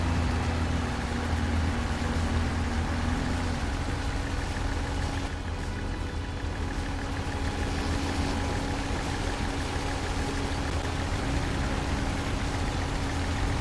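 A tractor engine in the Farming Simulator 22 video game drones steadily at a constant low pitch, loud and unbroken throughout with no talking.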